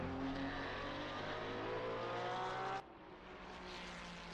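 Porsche race car in a sim racing qualifying session at Kyalami, its engine droning at high revs with a steady pitch, then cutting abruptly to a quieter, lower-toned engine sound.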